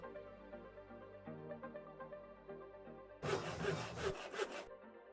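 A short burst of rasping file strokes from crafting a rod in Minecraft GregTech: New Horizons, several quick scraping passes over soft background music.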